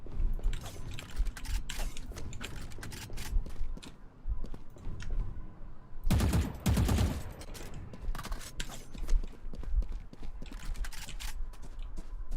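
Gunfire in a competitive video game match comes in rapid bursts of sharp cracks with clicking mechanical noises, and a loud dense fusillade in the middle stands out against a busy game soundscape.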